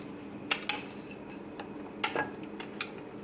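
Knife cutting rolled wheat-flour kachori dough on a kitchen board, a few sparse soft taps and clicks against a faint quiet background, no speech.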